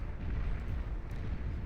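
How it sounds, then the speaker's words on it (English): A large in-game explosion in the real-time strategy game Beyond All Reason gives a deep, sustained rumbling roar that fills the whole moment without a sharp onset, with no voices over it. "HLT has been blown to smithereens here by this explosion in the midsection"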